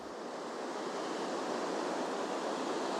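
Steady, broadband rush of ocean waves washing in without pause, a soft continuous surf roar with no distinct breaks between swells.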